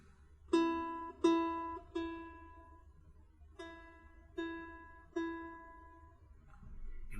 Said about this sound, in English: This is the E string.